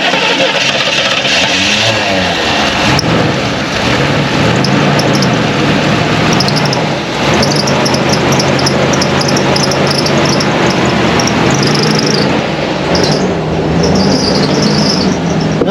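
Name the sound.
Chevrolet Monte Carlo barn-find engine running and skipping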